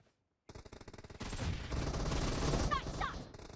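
Rapid automatic gunfire from a shooter video game, a dense loud fusillade that starts after a brief silence and carries on to the end, with small mechanical clicks and a faint voice callout mixed in.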